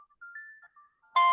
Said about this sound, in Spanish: Gente, hay un teléfono prendido.